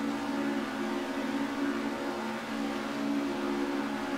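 Lancia HF or Alfa GTA race car in Assetto Corsa held at high revs on the starting grid, a steady droning engine note with a faint dip midway, continuous and without talk.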